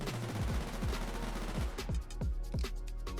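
Vector submachine gun firing in Roblox Jailbird Remastered, rapid bursts of sharp shots with a clear rhythmic cadence, close and loud over faint background noise.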